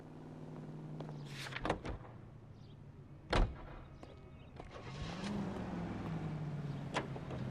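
A car in the video game L.A. Noire: two sharp door thuds, then a steady engine hum that rises as the vehicle pulls away, with no voices over it.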